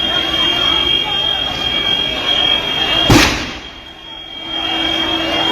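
Riot crowd noise in Murshidabad, West Bengal, during violent protests against the Waqf law: a steady roar of many voices with one sharp, loud bang cutting through near the middle.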